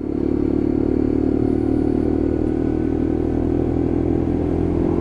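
A Lexmoto LXR 125cc Euro 5 motorcycle engine drones steadily during a ride test, loud and close, with a constant humming buzz and light clatter and no talking.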